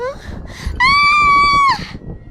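A woman's sustained high-pitched scream in a dramatized Hindi horror story, rising sharply and holding loud for about a second before breaking off, set among other voice sounds.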